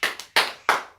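Hands clap in a steady rhythm at a church service, four sharp, close claps spaced evenly within a second, with no voices.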